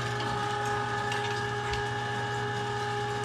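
An electric meat grinder runs steadily, grinding pork for sausage, with a constant mechanical hum and fine ratcheting clatter throughout, close and even, no voices.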